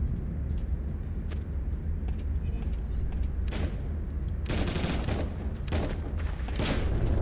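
Pistol gunfire in the Sector's Edge video game, with rapid bursts of shots cracking out in clusters over a constant low background rumble of game audio, loudest near the end.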